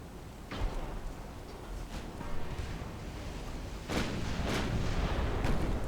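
Ship guns fire in a naval strategy game set among 1890s French warships: repeated booming salvos over a constant rumbling roar, with heavier blasts near the end and no voices.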